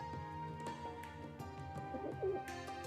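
Pigeons coo in the video game Trails of Cold Steel III, a few soft rounded coos rising over a steady busy ambient game backdrop with music-like tones, moderately close and not loud.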